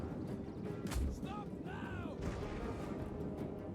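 Artillery in Total War: Attila fires rounds, a single booming shot followed by whistling projectiles and distant impacts, all over a steady wash of battlefield noise and voices in the background.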